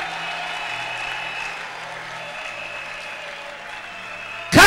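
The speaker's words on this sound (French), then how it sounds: "Est-ce qu'on peut acclamer très fortement pour ces dieux?" A church congregation breaks into loud applause and cheering in the final moment, a sudden dense burst of clapping after a quieter stretch.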